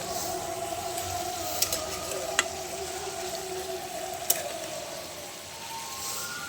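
Bottle gourd curry (lau ghonto) sizzling and bubbling steadily in a pan, a continuous close frying hiss with a few sharp clicks of utensils against the pan.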